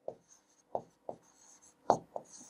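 Several distinct marker or chalk strokes on a board, short scratchy taps in an uneven rhythm, close and clear with no talking.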